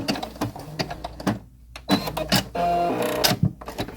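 A domestic sewing machine stitches with a J foot, giving a busy mechanical whir and clatter in short runs with a brief pause, close and fairly loud, with no talking.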